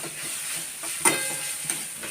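Grated potato sautés in hot oil for sabudana khichdi, giving a steady close sizzle with a couple of brief stirring scrapes and clinks, and no talk.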